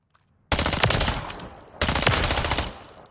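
Two loud sustained bursts of automatic fire from an LWRC9 chambered in 9x19 Parabellum in Call of Duty Modern Warfare III, each lasting over a second with a short pause between, crisp and close.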